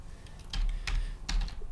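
A few quick keystrokes on a computer keyboard in a short burst, close and quiet, while a Photoshop layer group is renamed, with no talking.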